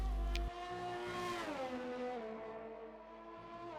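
A Ferrari race car on a flying lap around the Mexico circuit in a racing video game, its engine whining high and falling in pitch through a downshift, loud and close with no talk.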